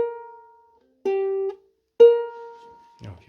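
Ukulele G string plucked in turns, open and then at the 3rd fret: three clear single notes about a second apart, each ringing and fading, alone with no talk.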